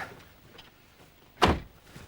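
A car door opened from the inside on a 1994 supercar with no exterior handles, heard as one sharp, loud clunk after a stretch of quiet, low background noise.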